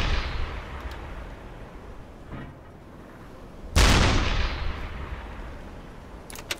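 A heavy gun blast from a U-boat video game booms out over a low rumbling background, with a fainter thud just before and a sharp crack near the end.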